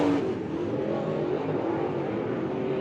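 An IMCA Modified race car engine at Monett Motor Speedway drones steadily at racing speed, a continuous, moderately distant roar that holds without pause.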